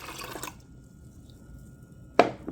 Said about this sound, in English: to my pot, I am going to add my liquid